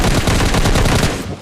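Rapid M4 rifle gunfire in PUBG Lite, a dense, loud burst of automatic shots firing continuously and close for over a second, then tailing off.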